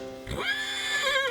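A horse gives a single clear whinny, a rising then wavering high-pitched neigh heard close and alone against a faint background.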